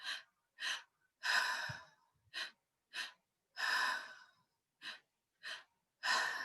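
Deep, steady breaths drawn into the belly during a breathwork session: a series of close, loud inhales and longer exhales in an even rhythm, with short silent pauses between them and no talking.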